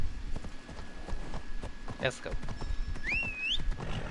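A horse's hooves clip-clop in a steady galloping rhythm in Assassin's Creed Odyssey, under a voice, with a brief whinny-like chirp and a whistling tone partway through.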